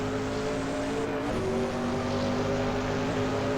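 A Group C race car in a sim racing game runs flat out at full boost. The engine gives a loud, continuous roar close up, and its pitch shifts and climbs partway through as it accelerates, with no speech.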